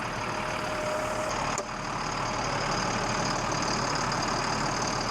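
An old military truck that sat parked for years is cranked over on a makeshift battery setup, a steady loud engine rumble and hum running throughout with a brief catch partway through.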